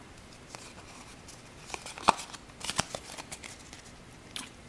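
Pokemon TCG Plasma Freeze card packs are handled and opened, with soft crinkling foil, scattered sharp tearing and flicking snaps, irregular and close, without talking.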